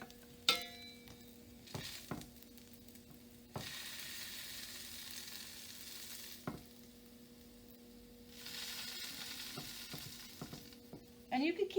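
A tater tot grilled cheese sizzles in a pan while a spatula presses it down, a steady frying hiss that swells in stretches, broken by scraping knocks and clatters, with no talk.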